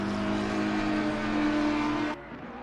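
A McLaren GT race car in the Assetto Corsa Competizione sim, number 30, black and orange, at Barcelona: a sustained, loud engine drone holding a steady pitch, then cutting off abruptly near the end.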